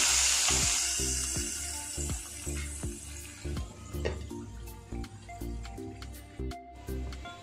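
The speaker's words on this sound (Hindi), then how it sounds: "अभी हम तड़का देंगे।" Hot oil tempering fenugreek seeds, red chilies and crushed garlic for dahi curry sizzles and spatters, starting with a loud hiss that settles into irregular pops and crackles, close up.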